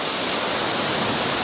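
A waterfall on the Falls Trail at Ricketts Glen State Park roars as a loud, constant broadband rush of falling water, close and unbroken.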